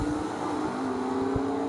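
Gasser drag race cars run side by side at Knoxville, a short burst of loud, rough, continuous engine roar.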